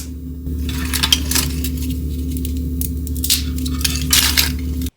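Light, crisp freeze-dried citrus slices clink and tap against each other and a hard surface in scattered, brittle bursts, close up and without talk.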